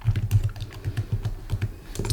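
Fast typing of HTML code on a computer keyboard, with close, crisp key clicks in quick, uneven bursts and no talking.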